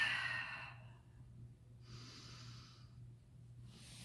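A deep breath drawn and let out slowly while resting in child's pose during an arm workout, soft and close, with a faint steady hum underneath and no talking.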